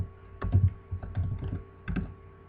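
Keys tapped on a computer keyboard while a for loop is entered into a PHP program, a few quick clustered bursts of close clicks separated by short pauses, with no voice over them.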